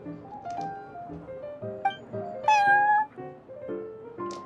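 Prince, a cat in the game Genshin Impact, giving a string of clear, close meows and chirps in varied pitches, with one drawn-out, rising call near the middle.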